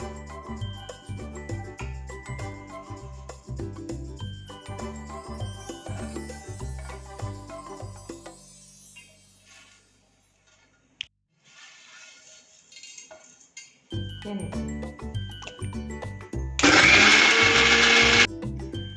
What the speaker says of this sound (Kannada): ಈಗ ಈ ಎಲ್ಲ ವಸ್ತುಗಳನ್ನ ಹಾಕಿ ರುಬ್ಕೊಂಡು ಮಸಾಲೆಯನ್ನು ರೆಡಿ ಮಾಡ್ಕೊಳ್ಳೋಣ